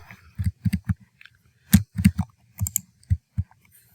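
Several sharp plastic key clicks on a computer keyboard, tapped in quick irregular bursts with short pauses, close and fairly quiet, with no voice.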